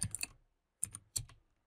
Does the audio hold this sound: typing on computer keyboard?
yes